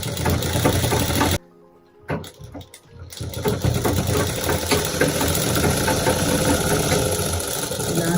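A sewing machine runs steadily while stitching a fishcut skirt, a close, continuous mechanical whirr with rapid needle clatter, broken by a brief pause near the start before resuming.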